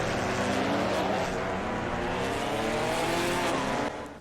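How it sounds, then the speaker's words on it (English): Ginetta GT4 race cars in Assetto Corsa Competizione at Circuit Zolder roar off together in a dense, steady engine drone, with faint tire skids mixed into the pack noise before it fades at the end. "Little tire skids."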